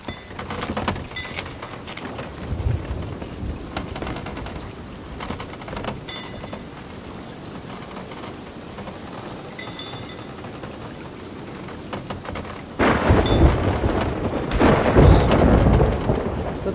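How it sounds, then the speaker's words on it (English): Thunderstorm with rain in the Sea of Thieves video game: steady loud rain hiss with rolling thunder cracks, swelling to a heavier downpour near the end, no talk. "Let's let this storm pass."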